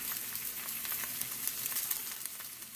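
Pork chops sizzle steadily in a hot cast iron skillet, a continuous close crackling hiss with tiny pops throughout.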